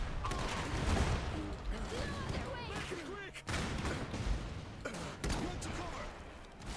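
Rapid gunfire and artillery blasts from the mech strategy game Iron Harvest, a dense battle din with bursts and booms layered over voice chatter and shouted commands.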